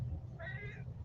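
A single drawn-out cat meow, clear and fairly close, rising over a steady low background hum with no talk.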